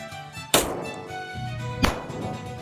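.22 rifle shots strike a brick wall: two sharp cracks with hard impact transients, the first followed by a brief ringing tail and the second about a second and a half later, loud and close.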